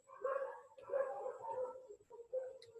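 Dogs bark and yip somewhere near a lecture hall, a few short, faint yelps in quick bursts.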